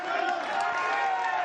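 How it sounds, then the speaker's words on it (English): A large rugby league crowd at a Challenge Cup match between Widnes Vikings and Dewsbury Rams roars steadily behind Dewsbury, a dense, continuous wash of cheering and shouting from the stands. "You can hear the crowd really getting behind them"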